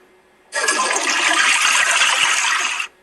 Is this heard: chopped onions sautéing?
no